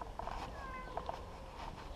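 An injured cat that is bleeding after falling from a height meows faintly a few times, with short, thin, wavering cries spread over about two seconds against quiet background noise.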